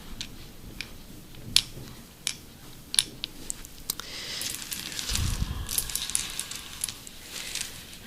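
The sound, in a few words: handling wooden Scrabble tiles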